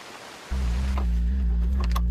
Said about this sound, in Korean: 갑자기 또 굵은 비가 내리기 시작하고